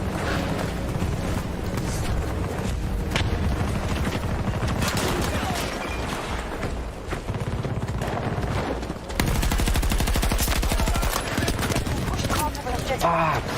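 Gunfire in a video game battle, bursts of rapid automatic shots and single cracks mixed with hoof clatter and constant loud game noise, while a player talks over the action.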